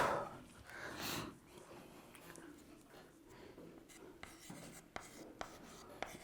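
Chalk or marker scratches across a board in a chemistry lecture, starting with a louder stretch of strokes, then quieter intermittent scribbles and taps with short pauses, close and fairly soft.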